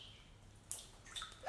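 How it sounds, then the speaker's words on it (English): Water drips inside a cave as a story sound effect: faint, sparse drops land with a couple of sharp splashy plinks over a quiet, low background. "The water went drip, drip, drip."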